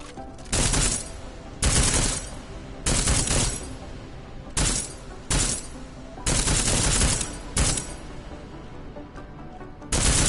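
Armor-piercing rounds fired at targets in Deus Ex: about eight loud bursts of rapid automatic fire, each lasting a fraction of a second to a second, separated by short pauses, close and with no speech.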